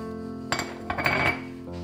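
A spatula scrapes and clinks against a bowl while yogurt is stirred into banana cake batter, giving a few irregular taps and scrapes over a quiet background.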